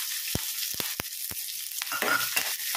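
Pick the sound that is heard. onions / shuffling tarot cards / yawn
onions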